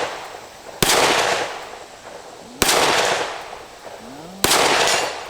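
Three sharp gunshots from a Heckler & Koch CC9 pistol fired outdoors at a plate 80 yards away, spaced roughly two seconds apart, each loud crack trailing into a long ringing decay, with a faint high ping from the plate between shots.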